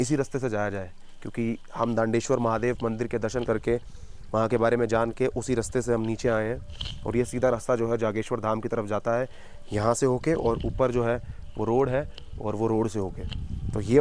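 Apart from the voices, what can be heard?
No distinct noise like a dog, phone or traffic.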